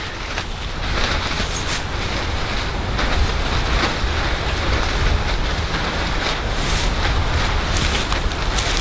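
Wind gusting around a tarp camp, a steady loud roar with flapping bursts and rushing swells that rise and fall throughout.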